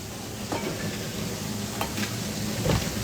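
Fish frying in hot oil, a Filipino fried tilapia, with a steady close sizzle and crackle and occasional sharper pops of spattering oil.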